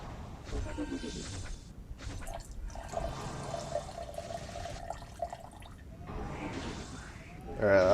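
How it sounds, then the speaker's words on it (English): Whiskey splashes and trickles into a glass of Pepsi in a few uneven bursts of pouring with quiet gaps between, ending in a louder gurgling fill. "Maybe I'll try adding a bit more whiskey"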